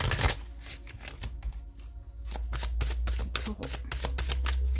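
Oracle cards shuffled by hand during a Taurus tarot-style reading, a steady stream of quick riffling, flicking strikes over a low hum, with a brief spoken word near the start.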